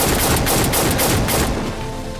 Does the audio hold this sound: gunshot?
yes